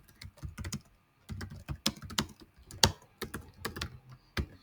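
Someone types a message on a computer keyboard, close-up and crisp, with bursts of quick clicking keystrokes broken by brief pauses and no talk.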